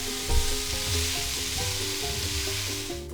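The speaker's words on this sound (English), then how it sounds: "Hear them sizzling." Chopped vegetables and onion sizzle steadily in a soup pot for a kids' chicken noodle soup, with a bright, continuous hiss, occasional stirring scrapes, and a faint tonal hum underneath.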